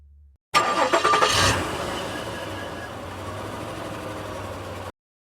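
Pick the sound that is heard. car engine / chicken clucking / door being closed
car engine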